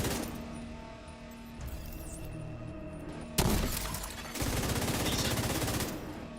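Gunfire in the video game The Division 2, a sudden loud burst of rapid shots followed by sustained automatic fire with shattering debris, over a steady game background.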